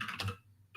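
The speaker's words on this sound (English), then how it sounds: "Let me finish typing so I can talk." Quick keystrokes on a computer keyboard at a desk, a short burst of a few clicks close to the mic, then a brief lull and one more tap.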